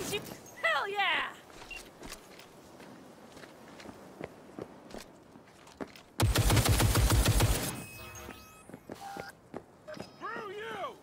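A machine gun turret in Cyberpunk 2077 fires one loud, rapid burst lasting about a second and a half. Before and after it come footsteps, clanks and voices talking.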